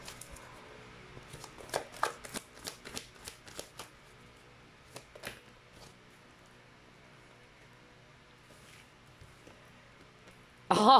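Archetype cards being shuffled by hand: a run of quick crisp riffling flicks close by, thinning out into sparse taps and quiet, then a sudden louder burst at the very end.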